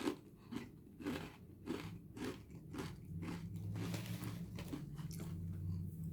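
Close, crisp crunching of Trader Joe's Ghost Pepper potato chips being bitten and chewed, a steady run of sharp snaps and crackles with no talking.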